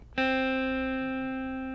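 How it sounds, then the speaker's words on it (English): A single guitar note on the first fret of the B string is plucked and rings out clearly, sustaining steadily and fading only slightly over its duration. "place it on the first fret of the B string"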